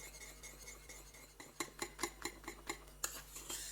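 A utensil stirring thickening pastry custard cream in a pan: quiet, rhythmic clinks and scrapes of metal against the pan, coming in regular strokes about every quarter second over a low hum.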